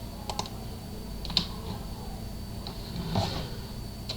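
Sparse, quiet presses on a computer keyboard entering Photoshop shortcuts, a handful of short clicks spread over a faint steady hum.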